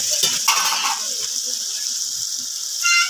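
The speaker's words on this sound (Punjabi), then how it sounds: "ਮਸਾਲਾ ਸਾਡਾ ਬਹੁਤ ਜ਼ਬਰਦਸਤ ਭੁੱਜ ਗਿਆ ਹੈਗਾ" Ground spices, including dried coriander, roasting in ghee in a village kitchen give a steady, close sizzling hiss, with ratcheting scrapes and clicks from stirring in the pan.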